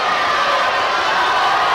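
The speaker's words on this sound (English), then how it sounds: "she's up there getting the crowd to shout defense" Crowd at a schoolboys' under-16 basketball league final shouting together in a dense, steady roar, loud and continuous with no individual voices standing out.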